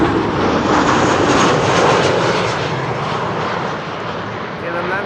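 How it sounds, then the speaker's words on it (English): A KLM airliner lands on the Kaagbaan runway at Schiphol, its engines a loud, steady broadband roar close by that eases slightly toward the end, with people talking faintly underneath. "KLM landing here."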